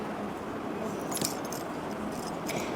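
A Malacca souvenir keychain jangles in bright metallic bursts, with louder clusters near the middle and again near the end over steady background hiss.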